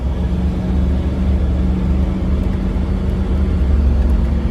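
A 1950 Packard Eight Touring Sedan engine accelerating, heard from inside as a steady, loud low drone and hum with road noise, no clear rise in pitch.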